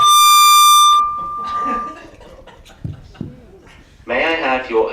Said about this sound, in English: The fire alarm test is now complete.